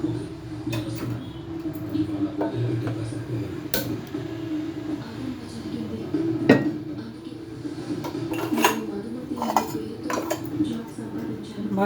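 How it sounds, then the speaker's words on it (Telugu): Metal pans are set down on a kitchen stove, giving several sharp clanks and knocks spread over a steady low kitchen background. "బాండ్లు పెట్టి అందులో నూనె వేయాలి."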